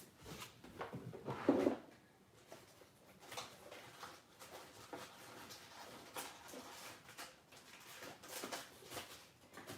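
A drawer being opened and closed during a search for supplies, with a louder thump and rattle early on, then quieter shuffling and rummaging knocks that come and go.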